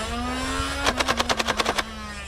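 A battery-powered Nerf Ultra Strike blaster, running on 9-volt batteries, fires darts in a rapid rhythmic burst of about ten sharp pops over its steady motor whine, close and loud.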